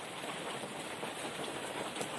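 Steady rain falls outside during an indoor class, a continuous even hiss with no clear individual drops, heard alone and fairly faint.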